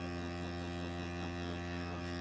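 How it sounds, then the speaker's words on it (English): The vacuum pump of a DeWalt 20V MAX Grabo suction lifter runs with a steady, even motor hum, close and unbroken, with no talking. "The pump is still running."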